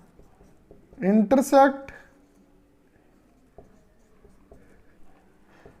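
Chalk or marker writing on a board during a Class 10 maths lesson on linear equations, faint scattered taps and strokes after a brief spoken word, quiet against a still room.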